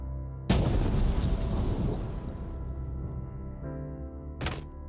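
A heavy blast goes off in the mining game Out of Ore, a sudden loud boom with a long rumbling decay, followed by a sharp second crack near the end.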